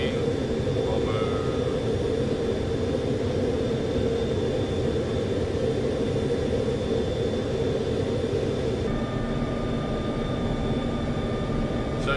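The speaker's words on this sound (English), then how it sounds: "There's a B-52 bomber, which this could be, which actually does match up quite nicely" B-52 bomber in Black Ops Cold War, a steady low roar of jet engines that stays constant and fairly loud, with a voice talking over part of it.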